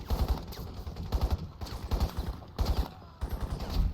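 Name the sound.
gunfire in the video game Crysis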